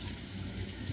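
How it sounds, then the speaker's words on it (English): Water running steadily into a bowl of flour for Jamaican fried dumpling dough, a continuous close, soft pouring wash with no talk. "So let's get a little bit more water in there."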